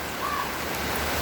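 Steady rain falling on a garden full of potted plants, a dense, even hiss with no breaks, close and fairly loud.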